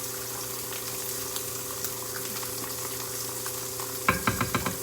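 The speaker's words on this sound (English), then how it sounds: "I'm going to give this a little stir so our sauce won't get too thick here" A pot of sauce bubbles and simmers with a constant low sizzle, then a spoon scrapes and stirs through it in a few quick knocks at the end.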